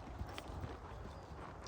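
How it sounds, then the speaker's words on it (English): Horse hooves trot on an arena surface, a soft and fairly faint rhythmic clip-clop under a low background rumble. "We'll do a bit of trotting on the other rein."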